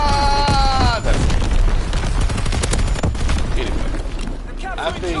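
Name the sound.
artillery explosions in a video game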